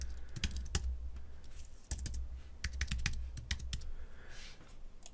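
Fast, steady keystrokes clatter on a computer keyboard while code is typed, with light clicks in quick bursts and short pauses over a low background hum, close up and with no talking.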